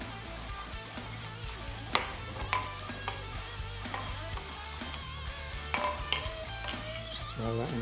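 Onion and peppers frying in a pan for spicy Louisiana prawns, a steady sizzle with repeated scraping stirs and occasional sharp clinks of a utensil against the pan.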